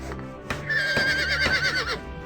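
A horse in the PC game Ultima Online Outlands gives a loud, drawn-out whinny with a wavering, shrill pitch after a few soft thuds, heard close and alone.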